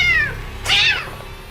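A cat gives two close, loud meows, a falling cry followed after a short gap by a longer, higher one, in a Hindi-dubbed South Indian thriller.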